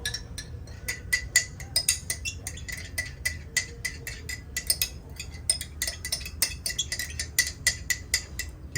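A spoon scrapes and clinks against a jar and bowl while queso is scooped out at a camp cooking setup, a run of quick, sharp metallic taps repeating steadily at close range.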